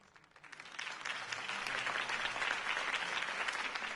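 Applause from a large crowd at a political campaign speech builds quickly and holds steady at a loud, dense level.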